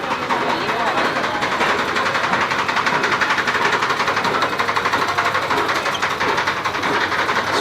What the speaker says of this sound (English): You could hear just cars, bikes buzzing behind us